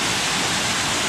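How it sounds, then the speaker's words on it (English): Steady, dense roar of Katahdin Stream Falls in Baxter State Park, close and loud, a continuous broadband wash of falling water with no voices. "So this is just the top part of the waterfall right here."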